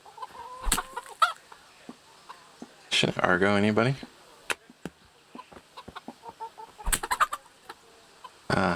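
Chickens cluck and squawk in the medieval game Kingdom Come Deliverance, with a loud flurry of rooster-like cackling amid short thumps and clicks, and someone speaks briefly.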